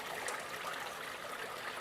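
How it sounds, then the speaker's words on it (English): Wetted paydirt and water pour into a gold sluice, a steady, soft hiss of running, trickling water with no break, moderately quiet and alone. "I'm going to pour it in at about the same pace."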